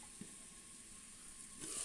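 Ankapur-style country chicken sizzles faintly in a pan, a soft steady frying hiss with a couple of small pops, quiet and close.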